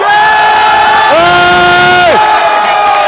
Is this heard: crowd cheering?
yes